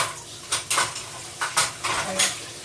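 Dishes clatter and clink in a dish pan during washing and rinsing, with intermittent knocks of plates and cutlery over a steady background hiss of running water, close and moderately loud.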